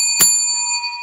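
A bell is struck once with a sharp strike and a long, bright, ringing sustain, then hit again lightly right at the end, with no voices.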